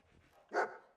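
A single bark from Dogmeat, the dog companion in a wasteland video game, short and fairly near, standing alone after a quiet moment.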